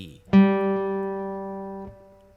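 A guitar's open G string is struck once, and the warm, clear tone sustains evenly for around a second and a half before being muted.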